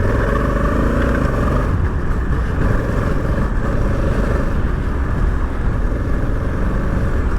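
A Honda Africa Twin motorcycle rides an off-road trail, its engine droning loud and close with steady throttle and faint rev changes, continuous without talking.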